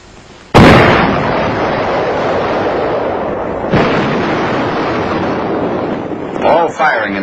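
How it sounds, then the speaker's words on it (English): A Little David 914mm mortar fires with a single sudden, very loud blast from a remote firing button, followed by a long roaring rumble and a second thud near the middle before the sound tails off. "the gunner pushes the firing button."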